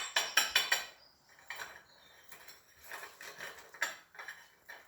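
A spoon taps repeatedly against the top of a boiled egg sitting in a cup, giving a series of light, quick clicks and cracks in short bursts with pauses between them.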